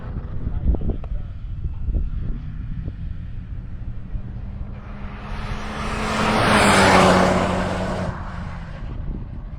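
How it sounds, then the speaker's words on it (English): A car on a racetrack at Carolina Motorsports Park sounds its horn as it passes, swelling from a distant rumble to a loud close roar and dropping in pitch as it goes by, with wind noise throughout. "Amanda demonstrating the Doppler effect as she goes by on the horn"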